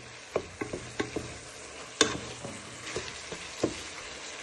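A sweet and sour pork and noodle stir fry is stirred in a pan with a wooden spoon, giving a series of irregular knocks and scrapes over a soft steady sizzle, close and quiet with no talking.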